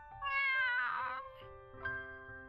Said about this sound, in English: Lady meows and lies down underneath the table